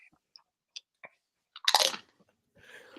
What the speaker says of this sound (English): Oh, that was a perfectly timed crunch.